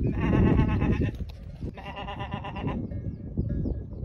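Several sheep bleating on a high mountain slope near the Pic du Taillon, loud and close, with repeated drawn-out calls in overlapping bursts. A person seems to be imitating the bleats and the flock answers.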